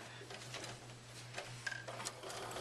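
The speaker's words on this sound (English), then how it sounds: "you want to keep sewing to your corner" A sewing machine stitches a fabric placemat toward its corner, a quiet, steady motor hum with faint rapid needle ticks, close by and alone.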